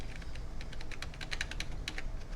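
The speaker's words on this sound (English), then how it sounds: "I'm going to use the right arrow keys" A run of crisp, close computer-keyboard arrow-key presses, tapped in irregular quick bursts over a low steady hum, with no talking.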